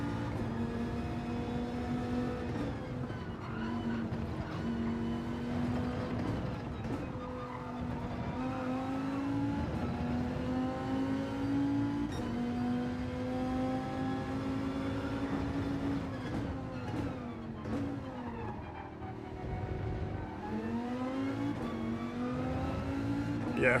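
Race car in the Gran Turismo 7 video game driven at full throttle, its engine note climbing steadily and loudly through gears with brief dips at shifts, continuous and close for the whole stretch with no talk.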